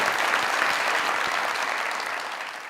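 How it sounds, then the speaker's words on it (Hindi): A large audience applauds loudly and steadily, a dense wash of clapping that tapers slightly toward the end. "तालियां बजाएं जरा राय साहब से।"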